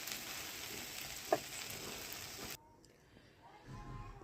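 Sponge gourd peels fry with garlic and green chillies in a pan, giving a steady hiss that cuts off partway through, then a quieter spell with faint stirring.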